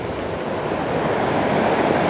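Sea waves surge and break continuously in a rocky cove with plenty of white water, a loud, steady wash of surf with wind rumbling across the microphone.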